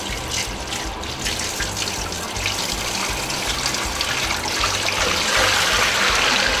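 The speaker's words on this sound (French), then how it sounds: "Maintenant, je vais commencer par mettre l'eau" Water pours steadily into a choux pastry machine through a funnel, a continuous trickling splash that builds slightly louder toward the end, with no talk over it.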